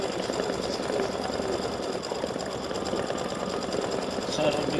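An embroidery sewing machine stitching heart designs onto flip-flop straps, a fast, steady mechanical rattle and whir running throughout at close range with a voice talking over it.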